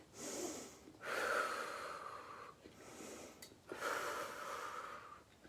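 Heavy, effortful breathing during a core workout: slow alternating inhales and forceful exhales, close and moderately loud, repeating in a steady rhythm without speech.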